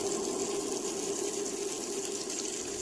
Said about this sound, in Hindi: अचानक नल चालू हो गया